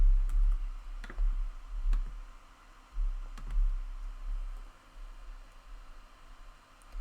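Sparse computer mouse clicks while uploading an image to a website builder, single sharp clicks spaced irregularly over a quiet, faintly hissing background.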